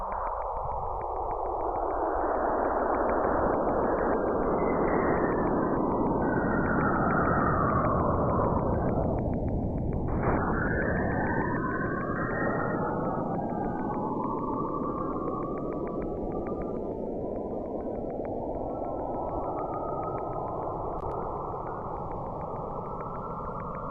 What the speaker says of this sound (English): Okay, here's the sound of Saturn.